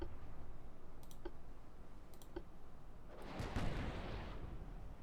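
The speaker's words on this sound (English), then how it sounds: "We have obviously launched a salvo here" Torpedo salvo firing in the naval battle game Ultimate Admiral Dreadnoughts: a few sharp game clicks, then a rushing burst of launch noise midway that lingers as a faint, diffuse hiss.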